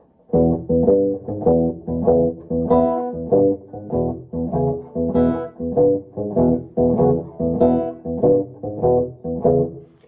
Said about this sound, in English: we're just going to add the open high E string to the existing patterns that we established in